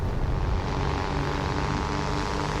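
Droning propeller aircraft engines from a WWII flight combat game roar steadily and loudly throughout, a dense continuous rumble with no distinct gunfire bursts standing out.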